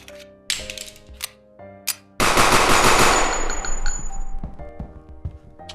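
Rapid automatic gunfire from a pistol in a video game bursts out loud and sustained after a few short clicks and clinks, with bright metallic ringing tails.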